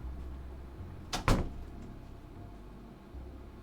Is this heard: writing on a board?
no